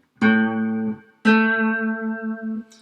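A guitar's A note played an octave higher rings out twice, two clear plucked tones with long sustain, the first cut short after about a second and the second left to ring and fade, close and alone.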